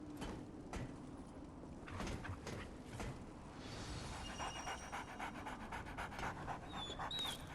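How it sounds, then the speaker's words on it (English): A dog pants in quick, breathy rhythm while being petted in the video game Remnant: From the Ashes, close and steady over a soft ambient game background. "We pet the dog"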